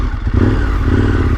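A 2021 KTM Super Adventure S engine fires up close by and loud, a clattering start settling into a rough, throbbing idle with slight revving.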